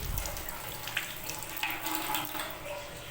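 Tap water running steadily while vermicelli is rinsed, a close, continuous broadband splash and hiss with small spatters, no speech over it.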